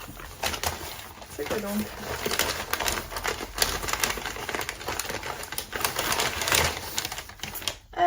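Paper and plastic packaging crinkle and tear in irregular bursts as a tightly wrapped parcel of books is opened up close, while a person talks over the rustling.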